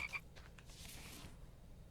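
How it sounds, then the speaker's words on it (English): A frog croaks faintly in the survival game The Infected, a short quiet call over a low, hushed outdoor ambience, with nobody talking. "think we have a frog in the base."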